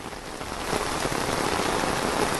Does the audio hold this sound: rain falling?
yes